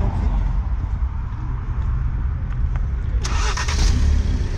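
A Ford Focus RS parked in the woods catches and settles into a low, steady idle, with a brief rise in engine sound near the end, close by.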